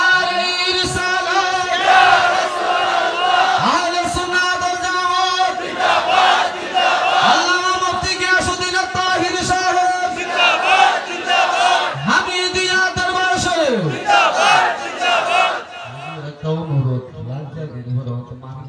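A large crowd at an outdoor Islamic waz gathering in Ashuganj shouts slogans in loud, repeated call-and-response bursts, voices swelling together several times before a lone speaker's voice takes over near the end.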